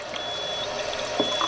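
Strong acidic water from a Kangen water machine runs in a steady, soft stream with small trickling splashes near the end.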